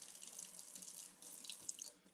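Hot water runs steadily from a kitchen tap into a sink, a continuous close hiss and splash with small drip-like ticks, no talking.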